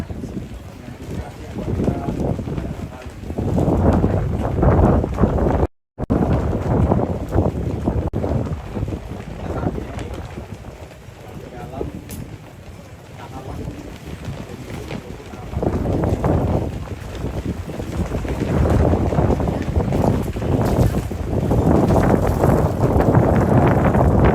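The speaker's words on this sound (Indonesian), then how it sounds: "Banyak sekali angin di sini guys." Strong wind sweeping across the Lakipadada road race circuit in Rantetayo, a steady loud rumble buffeting the microphone for a long stretch with swelling gusts, a voice talking underneath.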